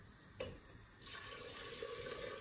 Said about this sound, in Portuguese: Vou completar com água